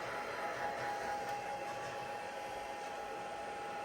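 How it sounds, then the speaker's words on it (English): A heat tool blowing hot air to dry a watercolour Christmas card, a steady, even whooshing hiss with a constant whine, running alone without pause. "I'm just giving that a quick heat, just to dry that off."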